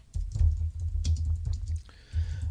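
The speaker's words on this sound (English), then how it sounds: "as I'm typing away here" Quick keystrokes on a computer keyboard, close and steady, running over a constant low hum with a brief pause near the end.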